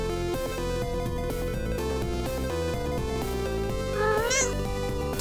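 A female video game character lets out a high, bending meow near the end, rising over dense, steady game music that fills the whole stretch.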